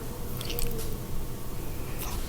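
Someone bites into a chocolate muffin close to the mic, a short soft crunch with squishy crumbly detail and a few crisp clicks, with no talking.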